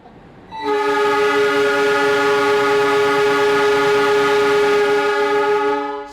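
The KA Anggrek passenger train sounds one long, loud, steady horn blast as it pulls out of Cirebon station, close by and held for several seconds before it fades slightly.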